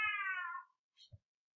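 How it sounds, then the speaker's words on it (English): A cat gives one clear, drawn-out meow up close, falling in pitch over about half a second, followed by a faint brief chirp and a soft thump. "I'm going to go try to calm down my cat"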